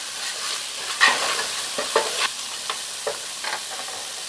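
Chili powder and cumin powder sizzle in hot oil while being stirred, a steady close frying hiss broken by scraping stir strokes.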